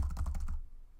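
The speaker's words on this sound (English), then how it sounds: "keep typing till it comes to the end" Quick run of computer keyboard keystrokes, several close soft clicks in a rapid burst, then near silence with one last tap at the end.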